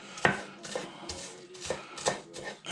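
An onion is chopped on a board for a breakfast omelet, with about six crisp knife strikes in an uneven rhythm, close and clear and with no voices.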